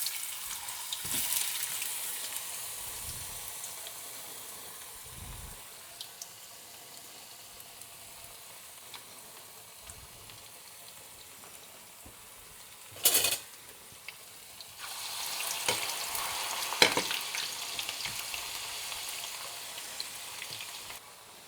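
A handful of fries in a HexClad pan of warm oil gives a quiet, steady sizzle that comes in bursts, with a few louder splashes and clinks.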